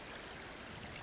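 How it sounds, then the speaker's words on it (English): A waterfall in the climbing game Cairn gives a steady, faint rushing hiss of falling water with no talk. "there's a waterfall here"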